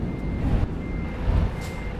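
Reversing beeps from a blue and white truck backing into a spot alongside in a convoy: steady repeated beeps under a loud, rumbling engine and road noise, fairly near.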